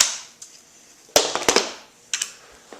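A KWA MP7 gas blowback airsoft gun with a silencer fired nearby, sharp loud cracking shots in short irregular bursts with brief gaps between them.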